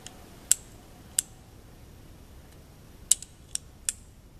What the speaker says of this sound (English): you got to listen for that click